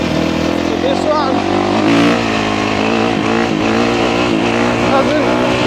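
A motocross bike engine drones loudly while riding, a steady buzzing whine with small rises and dips in pitch, with someone talking over it throughout.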